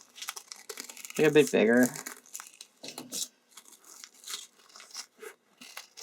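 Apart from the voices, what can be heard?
scissors cutting out a paper shape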